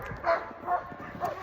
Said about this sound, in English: They like bark and scream until you let them go and run.